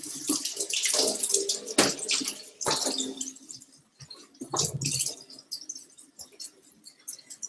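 Water runs steadily from a kitchen tap as hands are washed at the sink, a close, broadband hiss with splashy bursts and breaks where the hands move through the stream.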